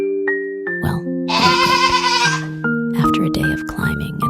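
Sheep bleating close by, several drawn-out wavering calls over soft tonal background music, with a voice speaking over parts of it.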